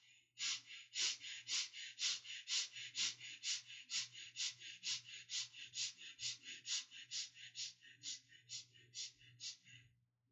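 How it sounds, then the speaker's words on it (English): Quick, short breaths through the rib cage follow one another in a steady, even rhythm, about two per second, each a sharp airy puff, close and clear over a low hum. "Start breathing quick and short breath."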